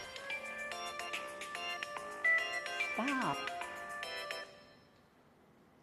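A mobile phone ringtone goes off during a neighborhood runoff candidates forum, its repeated melodic beeps ringing for several seconds near the mic. People talk over the ringing, and a sliding voice briefly breaks in before the tone cuts off.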